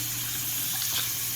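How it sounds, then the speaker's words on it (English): Water from a sink tap runs in a steady, continuous stream, used for dampening hair, with no voices over it. "I'm going to put it down to like a slow trickle so we don't waste any water."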